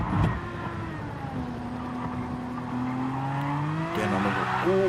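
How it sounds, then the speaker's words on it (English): A GT3 race car drifts around Mount Panorama at Bathurst in a racing video game, its tires squealing in long sustained wails over the engine's rising and falling drone, loud and close. "Gecko Racer decided to show us a bit of drifting"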